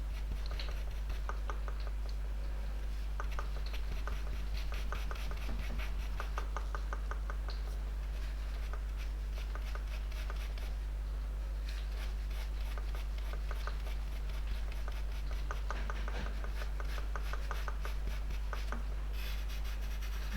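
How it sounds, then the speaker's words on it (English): Soft pastel scrapes and rubs across velour paper in a close, continuous series of small strokes and scratchy smudging motions, steady and fairly quiet over a low constant hum. "anytime I'm applying the softer pastel on the paper, you'll see me come back in and give it a good rub into the paper"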